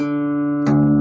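A guitar's low sixth string, dropped from E to D, rings as a sustained, loud, tonal note and is plucked again partway through, alone with no talking.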